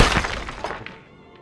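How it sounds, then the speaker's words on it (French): A crash sound effect, played for a fireplace collapsing during a Curse of Strahd tabletop role-playing session: one loud shattering, breaking burst that tumbles and fades out over about a second. "vous entendez un fracas qui vient de la cheminée"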